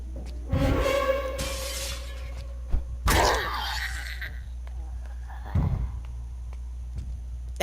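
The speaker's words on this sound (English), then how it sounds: "That glass shattered and it's gonna attract more zombies." Glass shatters in the Project Zomboid video game, a bright burst of breaking with a scattered tail, set among other short thuds and clatters against a steady low hum.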